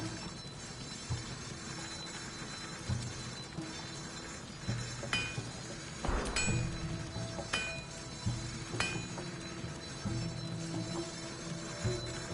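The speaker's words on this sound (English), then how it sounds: "Can't sleep, so I might as well hammer." Metallic hammer strikes ring out at irregular intervals in a Baldur's Gate 3 game scene, sharp clinks over a low ambient hum, spaced several seconds apart.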